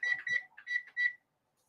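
Kitchen timer being set: a quick series of four or five bright electronic beeps in an irregular rhythm, close and clear, followed by silence.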